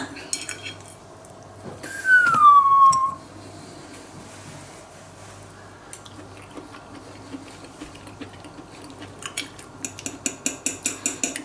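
A metal fork taps and clatters against a dish, ending in a quick run of rapid, regular clinks toward the end. A brief louder scrape-like squeal sounds near the start, over a low background hum.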